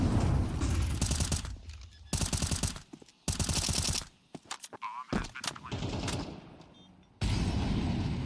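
Rapid automatic gunfire rattles in sustained bursts in a competitive shooter video game, with loud full-band volleys broken by short gaps and scattered single shots and mechanical clicks in between.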